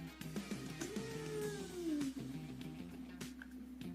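A cat lets out a long, drawn-out meow that rises and then slides downward, fairly faint and close, over a low steady background hum.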